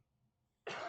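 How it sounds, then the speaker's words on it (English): A single sharp cough bursts out close to the microphone after a near-silent moment, loud and harsh, during a comic preview stream. "he coughed like right in my face"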